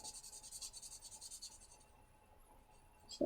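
Pens scratching and rubbing on paper while coloring the leaves of a Halloween envelope, a quiet, steady rhythmic scribble that fades out, followed by a brief knock at the end.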